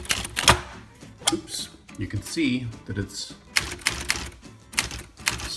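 Keys clack on a Remington Quiet-Riter typewriter, several sharp, close strikes spaced irregularly with mechanical rattles between them, while a person talks over the typing.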